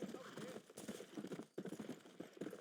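Horse hooves clip-clop in Red Dead Redemption, a steady galloping rhythm of repeated hoofbeats that briefly dips midway and then resumes, fairly close and clear.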